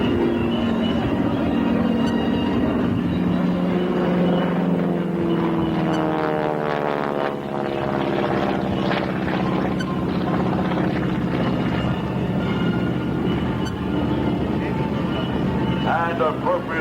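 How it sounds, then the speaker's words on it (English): Aircraft roar loudly overhead at the 1993 South Weymouth air show in Massachusetts, a sustained engine drone that swells and shifts in pitch as planes pass, with an announcer talking over it throughout. "And now two solo opposing aircraft once again."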